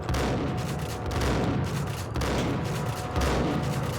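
Rapid sustained gunfire from a Max Payne shootout, dense overlapping bursts of shots with booming low-end blasts, loud and continuous without pause or speech.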